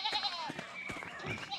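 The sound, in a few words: ram and sheep bleating, from video game Pentiment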